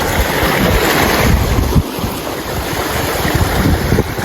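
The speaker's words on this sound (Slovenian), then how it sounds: "Najsproščeni val in glas morja" Steady ocean waves wash onshore with a broad, continuous surf roar and gusty wind rumble, loud and close throughout, no voices.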